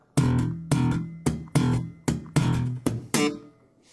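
A bass guitar plucks an E at the seventh fret of the G string with slap-style attacks, about eight evenly spaced notes played slowly, each decaying before the next, alone.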